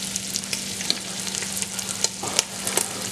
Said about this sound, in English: What I'll do is I'll fry this until it's nice and brown, slightly bit of crispness to it.